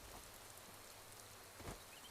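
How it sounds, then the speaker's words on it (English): Rain in the video game Skyrim falls as a faint, steady patter and hiss, with a few brief soft knocks and no voices. "rain sure does bring our game to a chugging halt"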